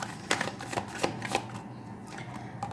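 Tarot cards riffle and flick in a close, crisp run of papery bursts with short pauses between them, heard alone and without any talking.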